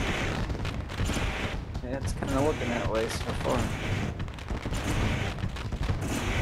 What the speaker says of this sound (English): I always forget about those fireworks at the start of the race.